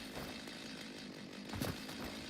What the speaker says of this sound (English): So a little demonstration like I meant to do before with the chainsaw.